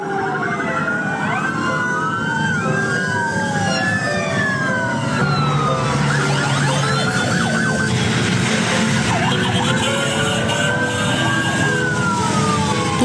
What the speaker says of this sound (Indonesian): Puluhan mobil ambulans mengiringi jenazah relawan gempa NTT Ahmad Zaki Ali